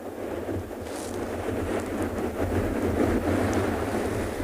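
Wind buffeting the microphone at an African penguin beach, a rumbling gusty roar mixed with surf that swells louder toward the middle and stays continuous.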